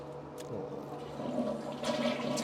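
A toilet flushes with a steady rush of water that swells louder toward the end, close by and heard alone.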